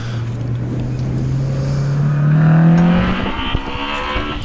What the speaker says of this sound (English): Simon Braithwaite, who's left the line in the BMW M3